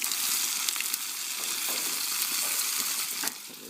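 Peppers hit a hot cast iron skillet where salmon is already cooking, giving a loud, steady, close sizzle and crackle that fills the whole stretch and eases slightly near the end.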